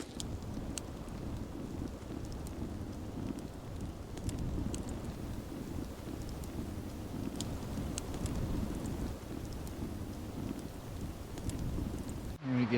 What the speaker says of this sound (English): The wind's definitely picking up more and more